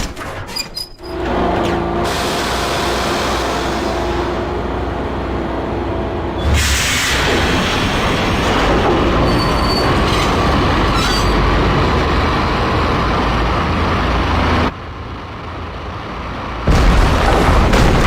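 In the Max Payne video game, a train rumbles loudly and continuously with metallic wheel squeal, with sharp shifts and a booming jolt near the end.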